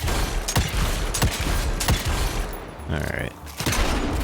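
Sharp gunshots fire at a steady pace in the video game Evil West, several loud cracks spaced about half a second apart, with a brief spoken word in between.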